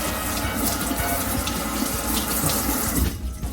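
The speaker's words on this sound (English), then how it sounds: "turn your water on, flush it out, just like that" Water from a running tap gushes steadily through a bug zapper to flush out dead bugs, a loud continuous splashing rush that cuts off abruptly near the end.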